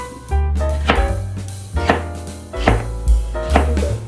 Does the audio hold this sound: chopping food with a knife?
yes